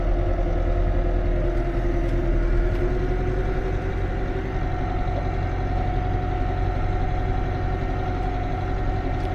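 A tractor pulling a weeder through a field chugs steadily at a constant low idle-like drone, close and loud throughout with no change in pace.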